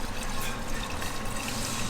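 Distilled (DI) water being poured into a container for a 50-50 engine coolant mix on a drift trike, a steady close liquid trickle and splash with no talking.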